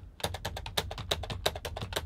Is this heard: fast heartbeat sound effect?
no